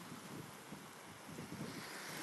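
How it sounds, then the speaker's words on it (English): Ocean waves wash onto a beach in a continuous, soft, broadband roar, with wind buffeting the microphone and no voices. "We're just watching waves right now."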